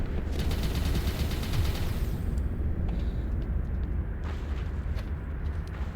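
Pistol fire in the Sector's Edge video game, rapid dense shots stacking into a loud, continuous barrage of gunfire with a busy, clattering texture throughout.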